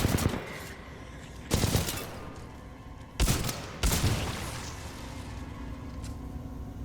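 Flatline rifle fire in Titanfall 2 comes as several loud, sharp bursts spaced a second or two apart, each followed by a fading rumble of surrounding game noise, with no talking.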